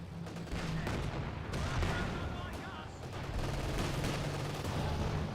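Gunfire in a Company of Heroes 2 battle shoots down an aircraft. Rattling bursts of shots and distant booms form a busy, constant din at medium level.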